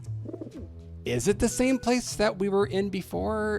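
A pigeon coos softly in the game Grim Fandango Remastered, a low warbling call near the start before people talk over the game's ambient sound.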